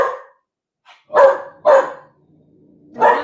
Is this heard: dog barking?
yes